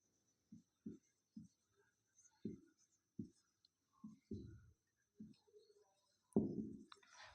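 Chalk or pen tapping and scratching on a board while a teacher writes a chemistry note, a series of short separate knocks in an uneven rhythm, close and quiet, ending in a longer scrape.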